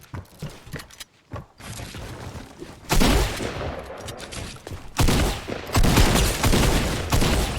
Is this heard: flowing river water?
no